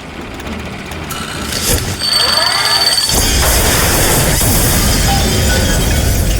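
Engine of a flying machine in BioShock Infinite: a loud, steady mechanical roar and rumble. It builds through a short whoosh and then holds at full strength.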